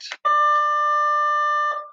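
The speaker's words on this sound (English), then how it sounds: "Oh, you can hear that bell. I'm here at the high school where I teach." A high school bell rings out, a steady electronic tone holding for about a second and a half after a brief noisy burst, loud and clear with nothing else over it.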